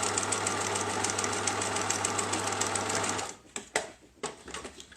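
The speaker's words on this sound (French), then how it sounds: "J'ai cousu les 2 parties ensemble" A sewing machine stitches two parts of a thick-fabric bike frame bag together, running in a steady, close, fast mechanical rhythm for about three seconds before stopping, followed by a few scattered clunks and handling noises.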